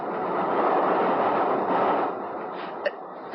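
Train running on a non-stop service from Brighton to Victoria: a steady, dense rumble that holds evenly, then eases, with a couple of faint clicks near the end and no talking.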